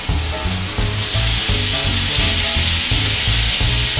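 Loud, steady sizzle of a London broil top round steak searing on a cast iron stovetop grill, continuous crackling frying with a pulsing low rhythmic hum underneath, close and uninterrupted.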